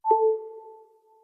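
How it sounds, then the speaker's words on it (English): The iOS 11 'Connect Power' wireless charging chime on an iPhone 8: a single soft electronic ping that opens with a brief attack, then two clean tones hold steady with a slowly fading, drawn-out echo tail, heard alone. "So Connect Power sounds like this."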